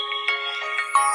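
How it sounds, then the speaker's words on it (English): A phone ringtone chimes alone in a steady electronic melody, a few repeating tonal notes pulsing over just over a second, fairly loud and close. "Of course, the phone always goes off."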